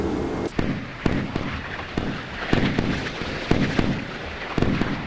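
A missile strikes a cargo ship loaded with vehicles in the naval game Sea Power, followed by a rumbling roar punctuated by repeated sharp cracks and blasts that continue for several seconds.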